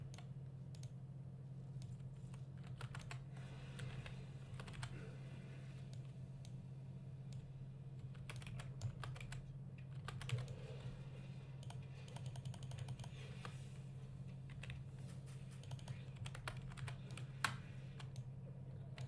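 Faint, steady clicking of a computer mouse and keys during a World of Warcraft session played as a hunter, low and close over a constant electrical hum, with no voices.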